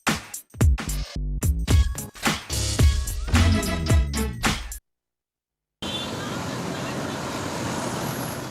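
Road traffic at a traffic light, heard as a steady wash of engine and roadway noise that starts after a brief silence and continues unbroken.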